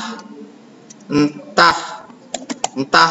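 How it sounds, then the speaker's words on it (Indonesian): Typing on a computer keyboard: scattered bursts of quick clicking keystrokes, irregular and close, with quiet gaps between. "karena kita ngetik sendiri, ya ngetik aja di sini"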